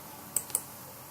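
Two quick, faint mouse clicks, a fraction of a second apart, sound over a quiet room hiss as a process button is pressed in statistics software.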